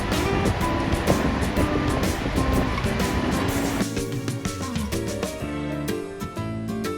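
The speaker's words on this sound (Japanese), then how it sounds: "海面の高い満潮側から低い干潮側に激しい勢いで水が流れ込んで" Tidal water rushes through the Naruto whirlpools in Tokushima, a loud, continuous roar of surging sea with scattered splashes and wind buffeting.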